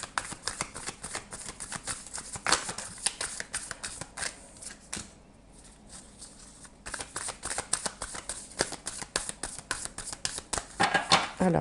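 Oracle cards shuffled by hand for a reading, a rapid run of crisp riffling flicks with a brief pause midway, close and steady.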